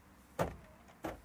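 Car doors unlatch and pop open after a hidden remote button under the wheel well is pressed, two short mechanical clunks roughly two-thirds of a second apart, close and fairly quiet.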